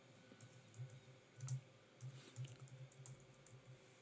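Typing on a computer keyboard in a quiet room: a steady run of light, close key clicks entering a short command on a Windows 11 PC, with one or two heavier taps, and no voices.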